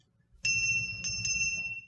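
A brass bell, a birthday gift, rings out clearly in a quiet room. It gives several bright, sustained strikes with a long shimmering ring that hangs over low background rumble.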